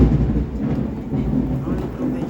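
A deep, steady rumble of thunder rolls continuously through the stretch, dense and low with a rain-like wash on top and no distinct crack.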